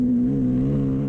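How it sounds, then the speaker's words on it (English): A Husqvarna motorbike races flat out in the Finke Desert Race, its engine holding a steady, loud, high-revving drone for a brief moment. "Sam Davies Husqvarna, flat out."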